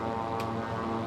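Steady propeller drone of a SeaRey Elite amphibious seaplane's engine in Microsoft Flight Simulator, climbing with one notch of flaps on a coastal flight near Newport, Rhode Island; continuous, loud, harmonic hum throughout.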